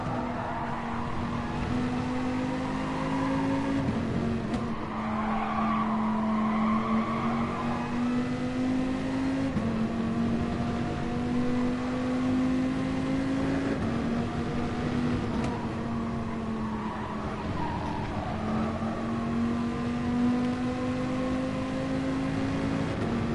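A Dodge Viper engine drones steadily through a Gran Turismo Sport daily race, its pitch rising and falling through gear changes and corners, loud and continuous with no distinct tire squeal.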